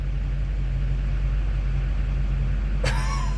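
A truck engine fitted with a FASS lift pump idles steadily with a low, even drone and a faint pulsing hum, close and loud, cut near the end by a brief sharp clatter.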